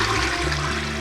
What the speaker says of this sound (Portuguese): deu a descarga.